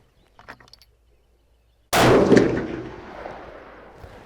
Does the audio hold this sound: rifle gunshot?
yes